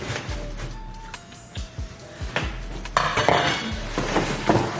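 A pink-handled cooking pot and its matching lid clatter and clink as they are handled, with several sharp metallic knocks and a ringing scrape, close and fairly loud.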